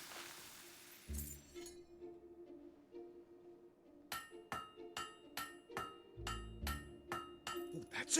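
Hammer blows ring out on an anvil at a forge in the video game Fable 3: a thud, then a steady series of sharp metallic clangs at close range over a faint hum.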